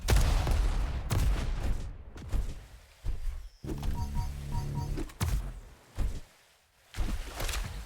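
Pincer weapon firing in a video game duel: a burst of rapid, rattling shots with sharp repeated impacts, loud and close, among other game effects and brief quiet gaps.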